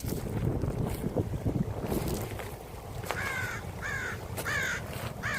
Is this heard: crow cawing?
yes